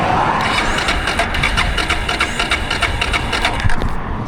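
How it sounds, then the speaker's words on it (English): Suzuki DR650 motorcycle engine cranking over without catching after dying on a highway, a rapid steady rhythmic churning from the starter, close and loud throughout. "It's cranking over."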